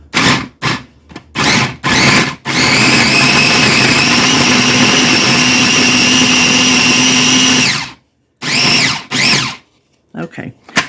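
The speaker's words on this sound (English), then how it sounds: "we will process this until it is crumbs" A food processor grinds keto biscuit ingredients into crumbs: several short loud pulses, then one long steady whirring run lasting about five seconds, followed by a few more brief pulses, close and loud.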